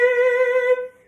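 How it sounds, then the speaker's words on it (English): A violin bows a single low, dark note on the G string, a sustained, rich tone held for under a second and then fading, close and solo. "I can play deep, dark sounds like this on the G string"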